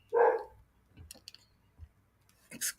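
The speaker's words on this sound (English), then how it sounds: "Please excuse my neighbor's dog in the background. It's very loud." A neighbor's dog barks loudly, one strong bark at the start and a sharper yelp near the end, separated by faint clicks and soft background noise.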